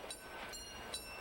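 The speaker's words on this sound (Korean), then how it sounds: "아직 한가하게 달리는 완행열차가 더 어울리는 옛 백제의 땅" A slow local train rolls steadily through the quiet countryside of the old Baekje region, its continuous low rumble carrying light rhythmic rail clatter, heard moderately close with no talking.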